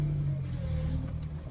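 A car fitted with a swapped engine pulls away, its steady mid-pitched engine drone humming continuously and fairly faint, heard from inside or close by with some road and wind noise.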